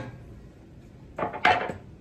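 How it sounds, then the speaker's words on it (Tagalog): A knife cuts chicken on a board, making a few quick, close knocks and scrapes near the end of an otherwise quiet stretch. "Maghihiwa tayo ng chicken."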